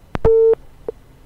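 A telephone busy tone after a dropped call on a news broadcast's phone link: a clicking blip, then one loud steady beep followed by a short fainter beep, with no voices.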